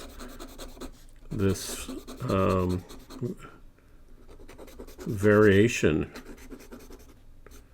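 A Sailor King of Pens fountain pen with a 21K gold nib scratches across paper while drawing, making soft, close rasping strokes that come and go under a voice.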